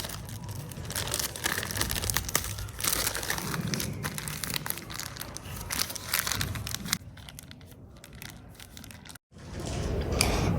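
A sealed plastic bag holding biscuits and water is squeezed and pressed by hand, giving continuous close crinkling and crushing of plastic with soggy crunching, loud and steady, briefly pausing before resuming.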